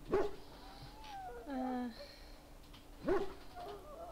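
An injured dog in the video game Dragon Age: Origins gives two brief, faint yelps or whines a few seconds apart, with quiet game ambience and voices around them.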